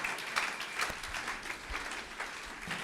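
A church congregation at a French Sunday service claps steadily together, a continuous wash of many hands at moderate distance, with faint crowd murmur underneath.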